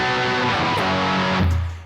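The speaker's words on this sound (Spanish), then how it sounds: "este es el sonido de la tríada disminuida" A diminished triad strummed on guitar, sounding dissonant and ringing for about a second and a half before a lower note takes over and the sound fades out.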